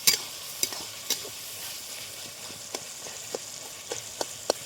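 Onions and tomatoes frying in a pan, a steady soft sizzle under regular sharp scraping taps of a spoon stirring, close by with no voices.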